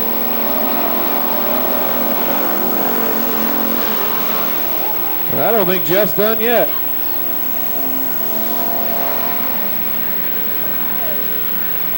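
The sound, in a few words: race cars racing on track at Billings Motorsports Park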